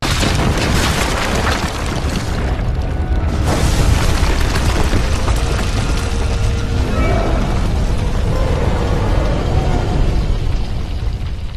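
A signal tower in the video game Legend of the Guardians blows up, a loud, sustained roaring explosion with dense crackling debris and rumble filling the whole stretch, never dropping away.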